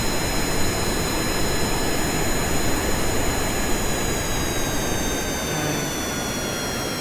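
A steady, loud jet engine roar from an aircraft approaching a runway to land in Kerbal Space Program, droning without break for the whole stretch with a faint high whine above the rumble.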